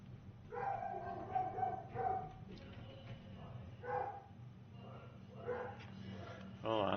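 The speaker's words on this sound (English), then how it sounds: "Hold on, dogs are going nuts." Dogs bark and yip in a few short bursts at a moderate distance, mixed with a low background hum and indistinct voices.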